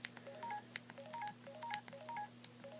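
Menu key presses on a Samsung T301G Tracfone cell phone, a series of short tonal beeps at varied pitches over a faint steady hum, spaced irregularly and fairly quiet.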